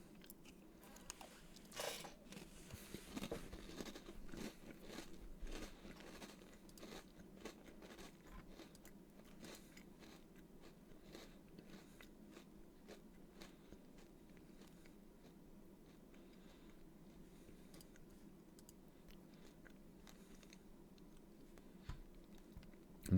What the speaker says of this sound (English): And you guys get to hear me crunch.